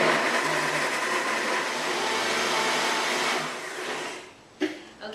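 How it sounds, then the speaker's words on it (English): A blender runs loud and steady, churning a thick raw Thai peanut sauce made with coconut oil, then cuts off near the end, leaving a short knock and a quieter tail. "So I'm going to blend. It's going to get loud."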